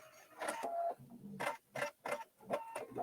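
A machine sews on a button with a series of quick rhythmic mechanical bursts, several short whirring stitching runs separated by brief pauses, fairly close and clear; no talking.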